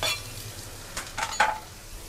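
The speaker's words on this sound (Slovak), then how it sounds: "Šunku necháme trošku viacej opražiť" Ham frying in butter in a pan with spring onion, a soft steady sizzle close by with a few brief clinks and scrapes from stirring.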